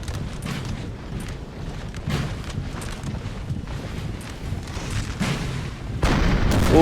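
Continuous gunfire and artillery from a Napoleon Total War siege battle: dense, overlapping musket cracks and cannon booms roll on without pause, with a heavier burst near the end.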